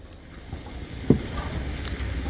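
Khichuri fries in oil in a pan, a steady close sizzle and hiss running throughout with a single soft knock of a utensil partway through.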